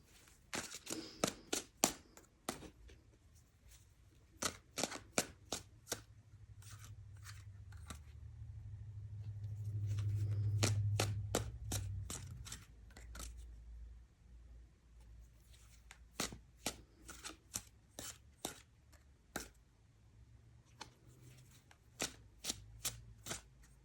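Tarot cards being shuffled by hand, bursts of crisp riffling snaps in quick clusters with pauses between, and a low hum swelling briefly in the middle; no talking.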